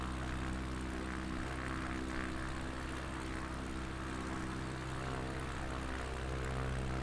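Bush plane propeller engine throttled back to about 30% in Microsoft Flight Simulator 2020 over Patagonia, a steady, even drone with low harmonic hum, continuous and close, no voices.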